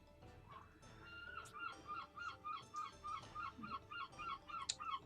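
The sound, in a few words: seagulls calling in the video game Pokémon Sword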